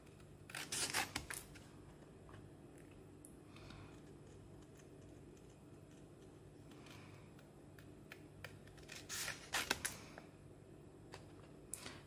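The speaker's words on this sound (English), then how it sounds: "I'm just cutting off bits and pieces" Paper being trimmed with scissors while making a junk journal cover: short bursts of crisp snipping come in quick clusters, pause, then return, quiet and close over a faint room hum.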